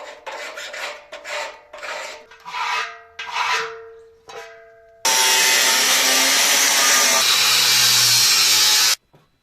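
A metal bin being cut in half for a homemade chuncana stove: broken bursts of harsh grinding and rasping, then a loud, steady cutting roar that runs about four seconds and stops abruptly.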